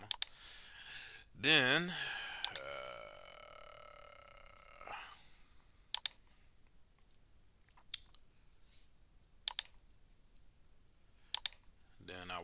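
Computer mouse clicks while an email newsletter is built in a drag-and-drop editor: sharp, isolated clicks spaced a second or two apart, faint and close, with a brief voice early on.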